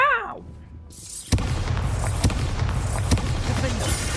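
Spell blasts from combat in the wizarding video game Hogwarts Legacy, one sharp booming explosion followed by several lighter thuds at roughly regular intervals over a noisy background.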